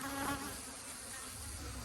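Dense buzzing of many bees around a beehive in an apiary, a continuous close insect drone filling the whole moment without pauses or voices.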